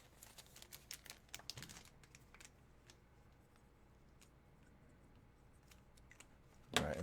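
Scissors snip and crinkle through foil baseball card packs at a tabletop break, with a cluster of quick sharp clicks and rustles, a quieter stretch, then a louder crinkling burst at the end.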